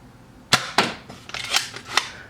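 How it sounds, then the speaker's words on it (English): Boomco Halo Covenant pistol toy blaster firing five sharp pops in close succession, each a crisp snap with a brief mechanical rattle, loud and near with no talking. "I'll do a quick firing demo so you can see kind of how they both look firing"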